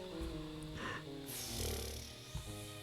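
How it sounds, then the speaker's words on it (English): Loud, rumbling snoring from Dr. Watson in a Sherlock Holmes adventure game, drawn-out breaths sitting over a low steady backdrop of game sound. "Snores very loudly."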